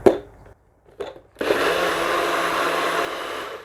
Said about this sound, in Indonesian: and then I'll blend it once again